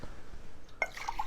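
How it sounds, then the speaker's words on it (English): Bone broth poured into a mug, a short splash and a few liquid drips and trickles heard up close after a quiet moment. "I'm just going to pour a little bone broth in my mug"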